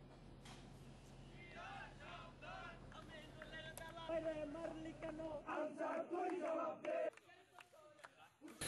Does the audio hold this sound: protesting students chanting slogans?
yes